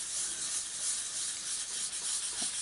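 A tissue rubbed in circles on a stamped card, a continuous soft, airy scrubbing hiss that holds steady and close for the whole stretch with slight rhythmic swells.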